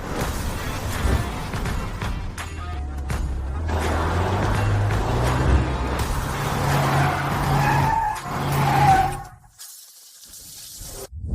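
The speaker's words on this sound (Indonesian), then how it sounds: "Ada mobil." A car rolls up with a loud, drawn-out skid of its tires, engine rumble steady beneath it. The skid runs for several seconds, then cuts to near silence before a small thump.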